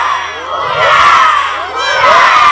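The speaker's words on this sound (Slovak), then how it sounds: "zakričíme si spolu na otvorenie tejto súťaže 3-krát hurá" A crowd of children at the opening of a pupils' traffic competition on a town traffic playground shouts loud, drawn-out cheers in unison, with two surging swells close to the listener.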